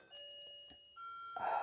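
Wind chimes ring in the background, a few sustained metallic tones overlapping and shifting in pitch, fairly soft, before a brief burst of rustling noise at the end.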